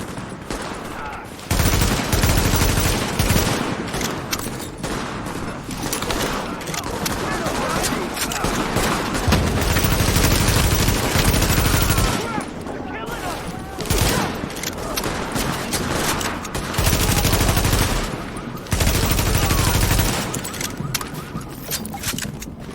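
Gunfire in a firefight in The Division, with repeated bursts of shots and clustered volleys coming in waves over ongoing battle noise and scattered voices.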